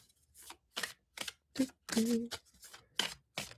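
Tarot cards shuffled in short, separate bursts of riffling and slapping, close by, with brief speech between them.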